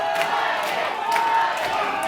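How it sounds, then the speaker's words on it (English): Wrestling crowd at an independent show cheering and shouting for Titus during a submission spot, a steady dense roar with scattered whoops and yells throughout. "The crowd getting behind Titus."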